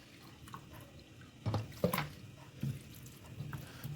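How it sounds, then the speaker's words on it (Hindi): Water is added to a pot of lentils (dal), heard as soft, faint splashes and drips, with a couple of brief louder splashes. "तो इतना हम पानी डालेंगे कि हमारी ये जो दाल है ये अच्छे से ठंड होनी चाहिए।"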